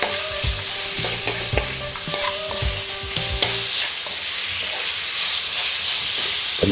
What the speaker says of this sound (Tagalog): Lakas-lakas natin yung apoy para masunog-sunog ang karne